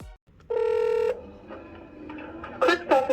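A push-button phone dials an outgoing call: a single steady keypad tone holds for about half a second, then a faint line hiss follows and a few short ringback or connection chirps come through near the end.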